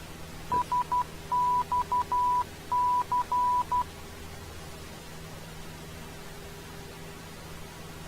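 Santa Catalina VOR station identifier sounding as a series of steady Morse code tones, short dots and longer dashes in three groups over the first few seconds, then a faint static hiss alone.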